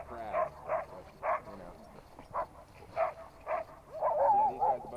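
Sled dogs at an Alaskan lodge barking and yipping in short repeated bursts at a moderate distance, with a quicker cluster of yelps toward the end.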